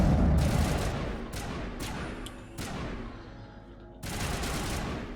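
Sustained gunfire in the Mass Effect Legendary Edition video game on Insanity difficulty, dense bursts of shooting and impacts rolling on continuously with louder volleys starting and stopping, loud and close throughout.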